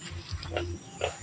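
Pig grunting and oinking in a farmyard, several short snorts spread over a second or so, close by, with steady low background noise.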